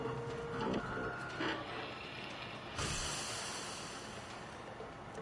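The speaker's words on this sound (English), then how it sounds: "Alright, interact with 3D printer." A 3D printer running in the video game Watch Dogs 2 gives a soft mechanical whir with changing tones and a few shifts in pitch, heard alone with no voices.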